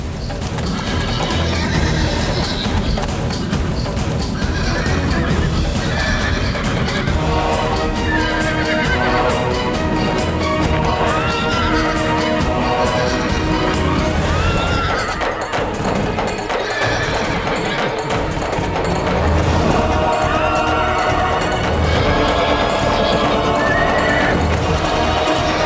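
An uncontrollable horse neighs and whinnies repeatedly while its hooves pound in a fast, steady gallop. The sound is loud and continuous, with a dramatic music score playing underneath throughout.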